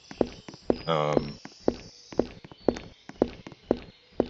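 Monster footsteps in a Roblox horror game: a steady run of about nine evenly spaced, thudding steps at close range, with a brief louder tonal burst partway through and no voices.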